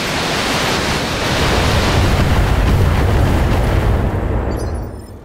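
Mech weapons fire all at once in the BattleTech video game, a dense roaring wall of blasts and explosions that holds loud for several seconds before tapering off.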